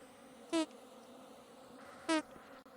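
Angry bees in the survival game Vintage Story give two short, sharp buzzing bursts about a second and a half apart against a quiet background.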